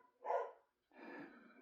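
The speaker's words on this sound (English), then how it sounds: "there's a dog down there" A dog barks a couple of times somewhere below, two rough bursts separated by a short gap, moderately faint and heard without talk over them.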